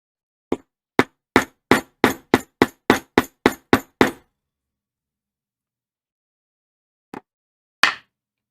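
A leather punch hammered into leather for a card holder: a rapid run of about a dozen sharp, close metallic strikes speeding up slightly, then silence, followed by two more isolated blows.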